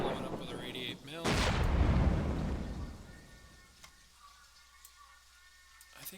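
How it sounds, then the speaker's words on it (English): An 88 mm gun in KARDS blows up a MiG 3: one sharp, heavy blast that booms and rolls off over a couple of seconds, with quieter game sounds before and after. "Let's blow it up with our 88 mil."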